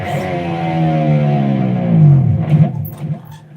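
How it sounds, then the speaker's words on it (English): An electric guitar dive bomb: the open E string is struck and the whammy bar is pushed down, so the loud sustained note slides steadily lower for about two seconds before breaking into rough, fading noise. "One of the most famous effect with the whammy bar is called the dive bomb"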